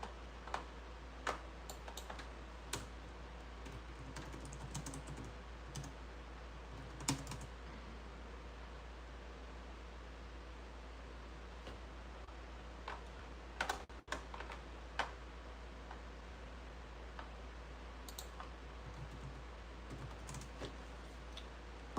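Someone types on a computer keyboard in irregular bursts of quiet clicking taps with short pauses, close by over a faint steady background hum.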